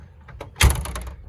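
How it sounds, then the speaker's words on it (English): A 1976 Corvette Stingray door swings shut with one solid, heavy thunk up close, followed by a short rattling settle and faint handling noise before it. "doors closed really nice and solid with no issues at all"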